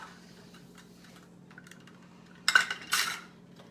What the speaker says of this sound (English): So putting our eggs in.